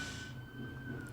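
A police siren wails faintly in a Richmond street outside, a thin steady tone heard from a distance over low background noise.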